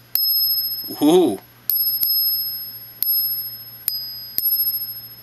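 A silver coin rings with bright, sustained metallic tones, struck about six times, each ring decaying slowly, while a short voiced exclamation sounds partway through.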